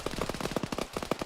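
Rapid automatic gunfire in the military shooter Arma, a dense burst of many quick shots that sounds somewhat distant.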